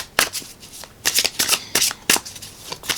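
Tarot cards shuffled and pulled from a deck, a close run of crisp riffling bursts and flicks in an irregular rhythm with no talk over them.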